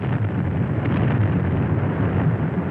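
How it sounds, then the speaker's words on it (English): Shells from bomb vessels explode in the town of Tripoli, a continuous heavy, muffled rumble of blasts blending into one dull roar throughout, loud and without any voices. "The bomb vessels threw shells into the town."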